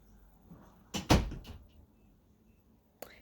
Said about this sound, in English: Close the door, Pope.